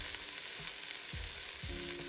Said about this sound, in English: We will add our vegetables into the pot and mix.